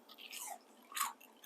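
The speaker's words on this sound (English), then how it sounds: "Lovely crunch." A single crisp bite into a crunchy fried eggplant popper, close and quiet, with a sharp crunch near the start and a second crunch about a second later, no talking.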